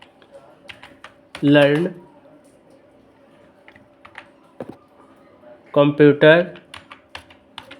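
Quick bursts of clicking keystrokes on a computer keyboard, close and clear, scattered between two short stretches of someone speaking.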